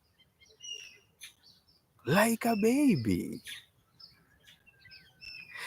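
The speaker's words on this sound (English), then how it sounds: "There's a bird that is making some noise here" A bird calls loudly in the morning with a rapid, warbling burst of chirps lasting about a second, preceded and followed by fainter distant tweets, while someone speaks briefly.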